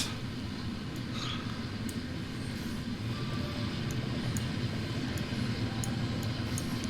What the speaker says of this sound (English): I'm gonna throttle up here